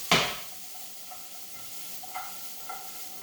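Dandelion roots drop into a cooking pot with a sharp initial burst, then a soft sizzle runs beneath a few quiet stirring scrapes spaced apart.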